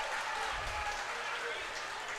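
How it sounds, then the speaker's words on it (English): A baseball crowd at Phil Welch stadium roars steadily after the tying run, a broad sustained cheer with a voice talking over it. "Crowd is going berserk here at Phil Welch."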